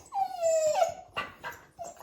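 Dogs whimper and whine close by in a few short, high, drawn-out cries, the last one brief and softer, with no talk over them.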